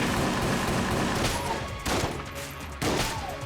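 Shotgun blasts boom in rapid succession in the game Enter the Gungeon, a dense burst of loud overlapping shots with a couple of sharper discharges near the end.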